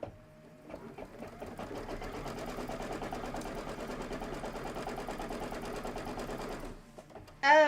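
A computerized sewing machine stitches quilting on a Kimberbell Let Me Call You Tweetheart pillow, running in a fast, steady, close-up whir for several seconds before stopping, followed by a brief louder sound.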